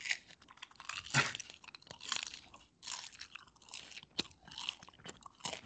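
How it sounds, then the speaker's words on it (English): Loud, close crunching and chewing on crisp nacho tortilla chips, with irregular bites and crackling chews repeating over several seconds in an otherwise quiet room. "Just give me like 20 seconds of crunching so that I can edit it out with a noise profile"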